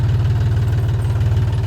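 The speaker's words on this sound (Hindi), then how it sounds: "देखिए चल रहा है ट्रैक्टर से।" A tractor engine runs on a farm with a loud, steady idle and a rapid low chugging pulse throughout.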